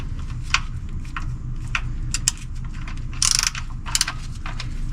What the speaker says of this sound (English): I'm gonna take my ratchet